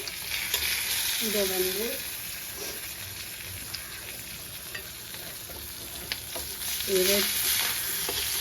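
Fish frying in oil in a pan on a stove, a steady close bed of crackling sizzle that runs throughout, with brief stirring noises and a few short spoken words over it.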